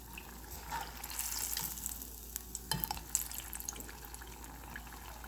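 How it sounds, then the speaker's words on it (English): Sweet plantains frying in oil in a pan, a steady close sizzle with a few sharper pops and crackles partway through, with no talking. "So I'm going to fry up the rest of them, and then they'll be done"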